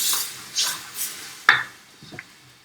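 Butter beans and chickpeas browning in a pan are stirred with a few soft scraping strokes and one sharp clank of utensil on pan, fairly close, with no talking.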